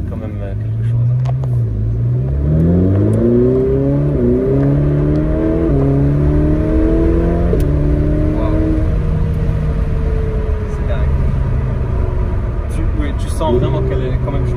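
A Ferrari 488 Pista in sport mode accelerates hard, engine pitch climbing through several gear-stepped rises then settling into a loud, close, sustained drone, with speech in the cabin over it.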